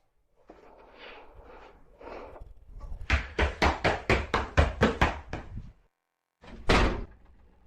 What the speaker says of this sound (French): puis la porte se referme brusquement devant lui